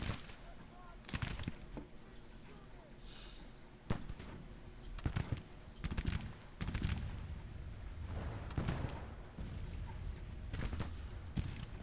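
Musket volleys in the Civil War strategy game Grand Tactician: Civil War, scattered distant cracks and rolling reports firing irregularly across the field, somewhat faint under battle ambience.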